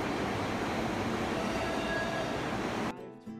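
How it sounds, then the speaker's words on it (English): A New York City subway train roars loudly and steadily with dense rumbling rail noise, then cuts off abruptly near the end, leaving brief quieter sounds. "So this is the subway that we took to go to downtown New York City."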